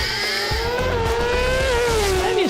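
A racing motorbike at a drag racing meeting howls at full throttle from a helmet-mounted viewpoint, a loud, sustained high-revving engine note holding steady before its pitch dips sharply at the end.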